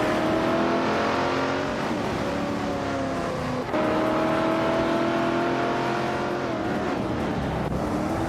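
A 1971 AMC Javelin race car roars loudly in a racing video game, its engine droning continuously with shifting pitch, one brief dip as it changes gear, and no voices.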